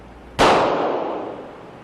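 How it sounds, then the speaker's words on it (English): One sharp, loud gunshot from a .40 S&W pistol loaded with 180 grain bullets, fired close by, followed by a long decaying echo. "as the officer fires the weapon"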